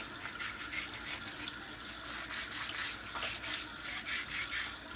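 Water runs steadily from a tap, rinsing soap off a KE102 motorcycle cylinder, a constant close splashing wash with no talking.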